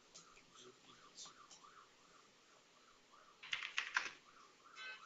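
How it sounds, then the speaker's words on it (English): Fingers tap out quick, soft keystrokes on a computer keyboard, light irregular clicks with a louder flurry near the end, over a faint low background tone. "I'm typing on ChatGPT right now"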